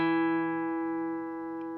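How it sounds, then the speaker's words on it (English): A single guitar note or chord rings out with the 2nd fret of the D string held down, sustaining steadily and slowly fading, close and clear with no voices. "Now take your second finger and place it on the 2nd fret of the 4th string"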